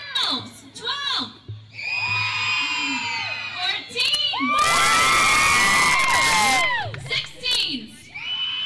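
An audience of children yelling and cheering loudly at a keynote event, with shrill whoops and screams rising into a dense, sustained roar mid-clip before breaking back into scattered shouts.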